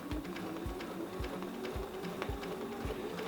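A sewing machine runs steadily while stitching a quilt along a Shirley quilting ruler, its rapid mechanical rattle close and even, with a soft thump recurring about every half second.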